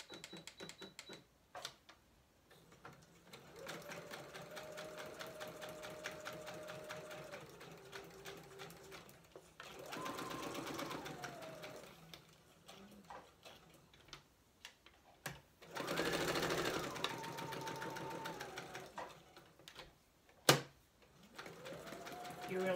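A sewing machine stitching close by in several bursts of rapid mechanical ticking and whirring, separated by pauses, with faint handling sounds between runs.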